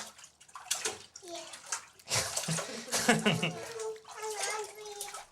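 Water sloshes and splashes in a bathtub full of soaking laundry washed with castile soap and borax, intermittent close movements heard under a child and an adult talking.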